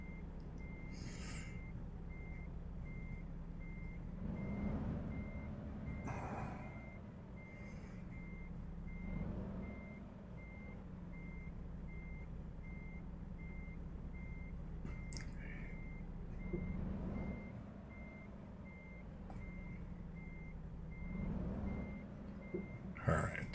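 Truck reversing beeps repeat steadily as a big rig backs its trailer in American Truck Simulator, a continuous tone over low engine rumble with occasional louder bumps, no talking.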